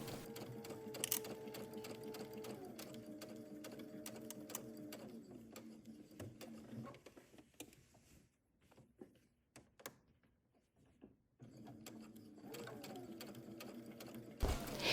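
A sewing machine stitches the gathered skirt of a summer dress to its bodice in steady running bursts, pausing briefly midway with quiet handling noises before the motor picks up again near the end.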